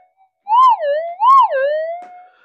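A GPZ7000 metal detector answers a small blob of solder passed over its coil with two rising-and-falling warbling tones, clear and close with nothing else heard.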